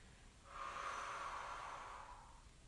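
One long, soft breath pushed out steadily through the mouth during a Pilates abdominal curl. It is close and hushed, rises over about two seconds and then fades.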